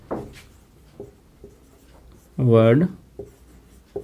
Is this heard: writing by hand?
yes